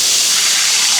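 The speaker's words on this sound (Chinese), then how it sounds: "加点水" Water poured into a hot wok with oil, scallion, ginger, bean paste and hotpot base for braising lamb tails, a steady loud gushing pour lasting the whole moment with no talk.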